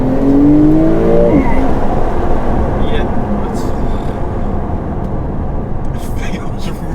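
A Porsche 911 Turbo accelerates hard, its engine a loud, sustained roar and drone heard from inside the car, with people talking over it.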